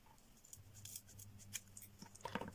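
Scissors cutting through ribbon in a crafting session, a few crisp snips clustered near the end against a quiet room background.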